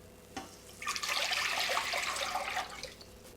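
Water pouring into a pot for miso broth, a near, steady splashing stream that begins after a small knock and runs for a couple of seconds before easing off.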